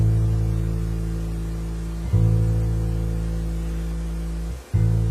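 A low sustained bass guitar note on the open A string hums steadily, briefly re-struck twice, with a faint hiss of background noise underneath.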